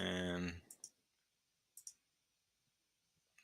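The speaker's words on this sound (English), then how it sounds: "So I'm just left clicking on the buttons there." Left mouse clicks on buttons in Minecraft Education, a few sharp, faint clicks spaced out over quiet after a short burst of talk at the start.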